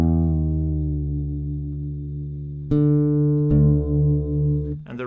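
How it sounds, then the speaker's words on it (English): Acoustic guitar in standard tuning with the open low E string plucked and left ringing, a sustained low note that slowly fades before being struck again twice, heard close and alone. "So that means if we play the open E string,"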